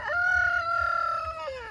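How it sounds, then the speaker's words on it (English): A rooster on a small farm gives one clear, loud cock-a-doodle-doo crow close by, part of a crowing contest with another rooster. No voices are heard. "Got a crowing battle going on between"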